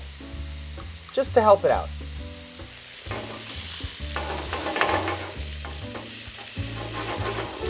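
Sliced bacon sizzles in olive oil in a pan, a steady loud crackle and hiss with utensil stirs and scrapes, while someone talks briefly at the start.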